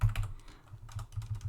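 Quick bursts of keystrokes on a computer keyboard, close and fairly soft, arriving in short irregular clusters with brief pauses between them.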